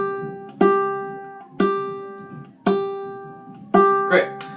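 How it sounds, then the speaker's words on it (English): In-tune G string on a ukulele plucked four times at a slow, even pace, each note ringing and decaying, close up with faint background noise. "So this is the G string, this guy. And it sounds like this. This is the in-tune note."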